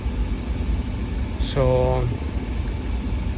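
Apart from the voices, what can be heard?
Audi A4 2012 engine running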